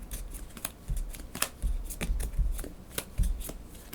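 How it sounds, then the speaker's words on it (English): Playing cards riffled and flipped while someone searches through a deck for a card in a solo game of Ark Nova, a series of close, crisp flicks and taps at an irregular pace. "So then I'm going to search the deck for a predator card."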